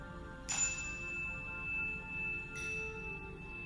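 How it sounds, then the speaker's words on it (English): A chime struck twice in a quiet yoga class, each ring a bright, sustained metallic tone that lingers and fades, the first near 0.5 seconds and a softer second strike around 2.5 seconds. "I'm going to ring our chime"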